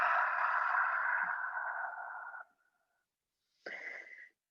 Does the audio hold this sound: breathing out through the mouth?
yes